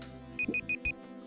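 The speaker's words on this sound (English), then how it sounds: "It's the timer. That sound is so annoying." A browser timer alarm sounds four short, evenly spaced high electronic beeps in quick succession, fairly clear over a soft room background.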